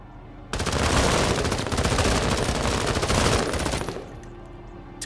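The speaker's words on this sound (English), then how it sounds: "Now we can actually use the assault rifle." Sustained automatic assault rifle fire in a video game, a dense, loud stream of rapid shots lasting several seconds before cutting off abruptly, leaving faint background ambience.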